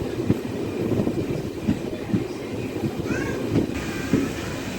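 A DEMU diesel-electric train runs between Timmapur and Raichur Junction, a steady rumbling roll with periodic clicks of wheels over rail joints, heard from inside the coach at moderate level.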